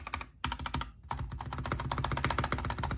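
Steady, close typing on a Kemove SnowFox 61 mechanical keyboard with Gateron switches and added foam, a quick dense stream of clacky keystrokes with one short pause near the start and no talking.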